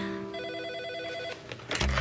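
A telephone bell rings in an office, a steady warbling trill that stops abruptly before a louder clunk as the receiver is picked up; close and clear, with no talk during the ring.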